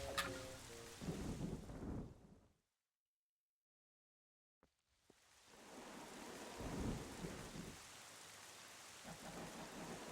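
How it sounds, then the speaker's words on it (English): Thunderstorm in Zelda: Wind Waker, with heavy rain and rumbling thunder that cut to silence for about two seconds, then a sharp crack and the downpour and rumble returning loudly. "At least we got the cool lightning effect, I suppose"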